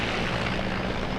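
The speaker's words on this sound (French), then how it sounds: "Donc le Mi-17, c'est un hélicoptère de manœuvre de conception soviétique" Soviet-designed Mi-17 transport helicopter passing over a civil and military parade in Thiès, heard as a steady, loud broadband engine and rotor roar with no talk.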